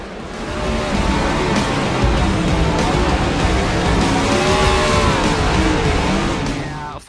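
Race cars on the Dover Motor Speedway oval in the iRacing video game, engines droning loud and continuous as several cars roar past in steady pitch sweeps, with no talk over it.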